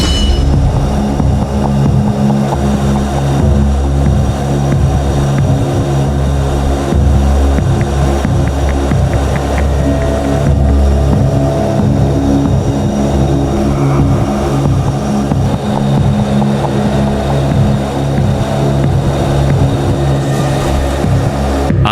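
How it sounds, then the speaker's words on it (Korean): A KF-21 fighter jet during aerial refueling gives off a loud, continuous engine roar that stays steady and dense throughout, with no voices. "시작 전 KF-21의 공중급유 장면을 잠깐 보고 시작하겠습니다"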